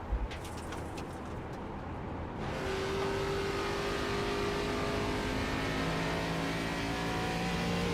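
A race car in an iRacing sim race at Iowa Speedway holds a loud, steady engine drone with sustained tonal whine and little change in pitch after a brief quieter start.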